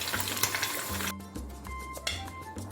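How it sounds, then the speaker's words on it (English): Boiled meat fries in hot vegetable oil in a pot, giving a steady, close sizzle and crackle with faint clinks of the pan and no one talking. "I will allow it to fry till it's golden brown like this"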